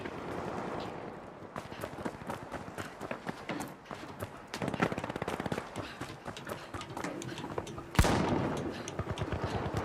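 Shotgun fire in a video game, rapid sharp blasts and clattering gunfire at a modest level, with a heavier single shot standing out near the end over a busy background of game noise.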